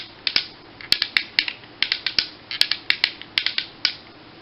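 Ratchet joints on a Transformers Power of the Primes Abominous toy click in quick irregular bursts, sharp close snaps alone against a quiet background.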